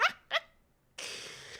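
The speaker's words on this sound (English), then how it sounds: "Dog." A dog gives two short, sharp barks close by, followed by a brief quiet and then a steady hiss of background noise.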